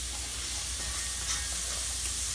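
Diced jamon sizzling and frying in a pot while being stirred, a steady bright crackle with soft scraping, close and continuous, with no talking.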